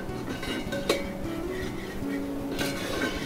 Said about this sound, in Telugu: సో మష్రూమ్ కూడా వేసేసాం, దాన్ని కూడా చక్కగా మిక్స్ చేసేస్తాం.